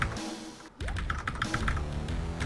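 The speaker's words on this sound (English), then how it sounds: "this new amazing keyboard, which is a Philco Magistouch 2 with Cherry MX Brown key switches" Rapid, close clacking keystrokes ring out on a Philco Magistouch 2 keyboard with Cherry MX Brown switches, a busy run of taps with a brief gap near the start.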